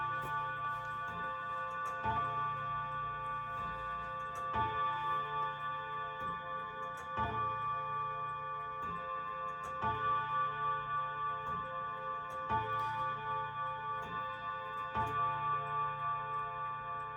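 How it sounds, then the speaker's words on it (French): Grandfather clock ticking in a quiet room, slow regular ticks about every two and a half seconds, soft and steady over a faint sustained tonal hum. "vous allez entendre l'horloge grand-père pendant un"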